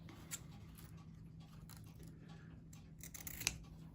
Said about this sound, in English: So the last thing you want to do to finish your bunny off is to just trim your ribbon